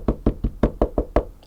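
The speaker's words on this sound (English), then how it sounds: "Knock on wood." Seven quick knocks on a wooden surface, close and crisp, evenly spaced in a steady rhythm with no talk over them.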